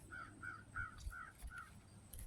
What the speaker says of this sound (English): 2 crows flying east